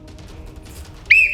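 A sharp whistle is blown once, loud and close, in a short steady shrill burst at the end after a quiet stretch.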